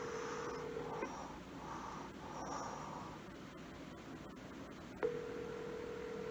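A phone call dialed to an L.A. number from a phone that is not the caller's regular one: a steady tone runs for about a second, drops away under faint clicks, then returns sharply near the end.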